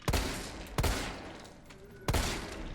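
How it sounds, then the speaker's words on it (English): Three handgun shots ring out in Resident Evil 3 Remake, sharp, loud and widely spaced, each trailing into a reverberant tail over a steady low background rumble. "I'm just burning up the handgun ammo."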